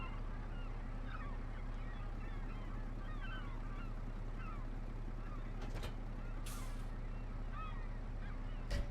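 Birds in the iConCity city-building game give scattered honking, goose-like calls against a steady low hum, faint and spread across the clip without clear talk.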